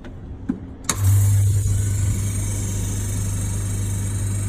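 A laminating machine with a metal plate that isn't pressing down starts up: a couple of clicks, then a motor kicks in and settles into a steady, loud mechanical hum that runs on unchanged.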